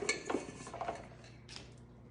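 A cauliflower mixture is tipped onto a liner-lined baking pan, making a short clatter of metal pan and utensil clinks followed by softer scraping knocks that fade out. No one speaks.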